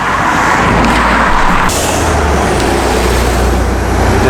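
Steady road traffic rolls across a bridge as a continuous, loud roar of cars and heavier vehicles, with a low rumble that swells when a passing vehicle draws near partway through.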